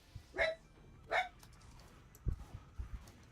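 Maymay, a pet dog, gives two short, high yips close by, followed by a few soft low thumps and snuffles.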